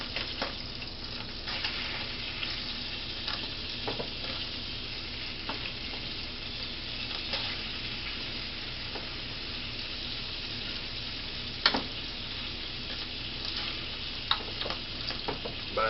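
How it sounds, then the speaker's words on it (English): Beef pieces fry in an iron skillet for stew, giving a steady close sizzle with occasional faint ticks and clinks throughout. "I fill up the iron skillet so that I can flip the meat and it's got room to turn"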